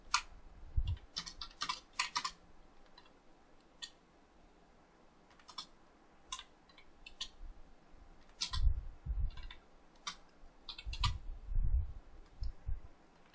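Typing on a computer keyboard in irregular bursts of crisp key clicks with quiet pauses between, close and fairly soft, no voices.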